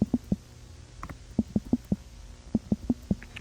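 Short squelchy fart sound effect from the fan-made Tragibox game, a series of quick blurts in clusters of three or four with short gaps, repeated three times and fairly loud, with no talking.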